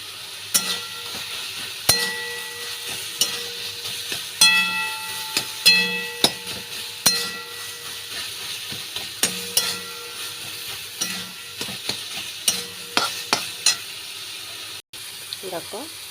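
Cabbage being stirred with a little sugar in a frying pan, a utensil scraping and clacking in short repeated bursts over a faint sizzle, with occasional brief sounds in between.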